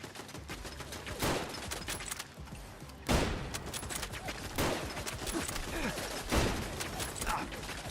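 Automated turret gunfire in the video game Fallout London, loud bursts of rapid shots recurring every second or two over a busy background of game noise.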